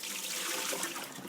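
Water splashes and pours steadily as it is drained from a cooking pot of Haitian turkey bouillon, a continuous close rushing flow with no talking.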